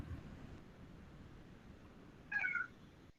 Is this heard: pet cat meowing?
yes